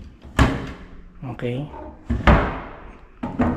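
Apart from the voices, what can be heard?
doors of a beachfront resort being opened and closed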